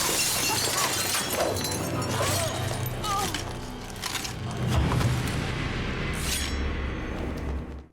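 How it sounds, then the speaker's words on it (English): Glass partition shattering in a Scream film, a loud crashing break with scattered high debris amid dramatic score and booming hits, with voices mixed in. "The killer tricks her into going to an empty office, that classic horror movie mistake, and throws her through a glass partition"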